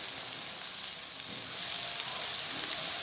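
Garlic and ginger frying in desi ghee for a Punjabi-style cauliflower and potato dish, giving a steady, close sizzle that swells slightly louder partway through, with no talking.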